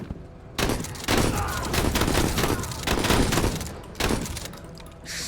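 Gunfire in the video game MENACE, dense bursts of rapid shots running almost continuously with a short break before a renewed volley, loud and close.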